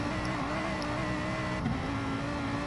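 A BMW race car engine from a Gran Turismo Sport race holds a loud, steady drone at high revs with a constant tonal whine and no break, and no one speaks.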